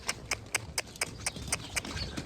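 A horse walks in an arena with a steady rhythm of hoof clip-clops, about four strikes a second, close by and crisp over faint background hiss.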